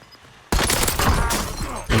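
Dense, loud gunfire from the video game Warzone erupts suddenly after a quiet moment, a sustained rattling barrage of rapid shots, close and overwhelming, with another burst starting at the very end.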